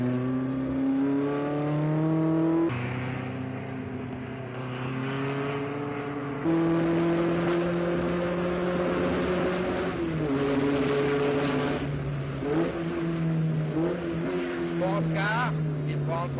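A 1972 race car takes the station bend, its engine note climbing and dropping with gear changes as it powers through the corner, heard under continuous talk.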